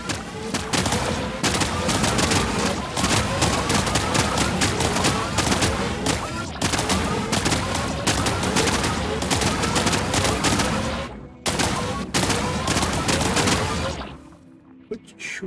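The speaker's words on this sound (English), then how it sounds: "Quit shooting the rock." Rapid video game gunfire aimed at a rock rattles in dense, loud bursts for most of the stretch, broken by a few brief pauses, then trails off near the end.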